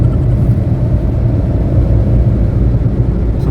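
A car driving along the non-toll road from Kalasan to Klaten, heard from inside as a loud, steady low engine and road rumble with no voices over it.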